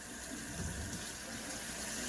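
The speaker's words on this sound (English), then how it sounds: "So you just kick that water on cold and just drain them off." Cold water runs from a kitchen tap over cooked pasta noodles to drain them, a steady close rush and splash with no break.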